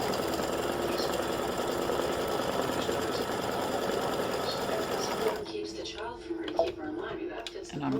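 A sewing machine runs steadily while stitching fabric, a dense continuous mechanical whir that suddenly cuts out partway through, followed by a few soft clicks and handling sounds.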